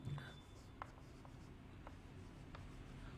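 A pen scratches across paper while writing out the statement of Coulomb's law, quiet short strokes and taps in an irregular rhythm over a low steady room hum.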